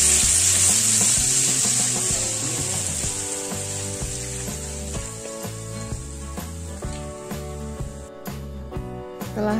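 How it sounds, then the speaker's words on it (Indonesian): A ground paste of shallot, garlic, turmeric, kencur and candlenut sizzles in hot oil with a steady, bright frying hiss, stirred now and then with light scraping and clinks, close and alone without talk. "Kemudian kita siapkan minyak, kita tumis dulu"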